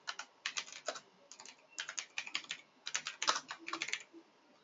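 Fingers typing on a computer keyboard, steady bursts of quick clicks with short pauses between words, close and clear with no talking.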